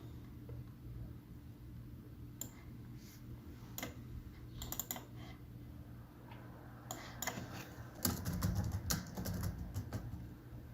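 Someone types a short note on a computer keyboard in brief, irregular bursts of clicking keys, with a denser flurry near the end, over a quiet hum.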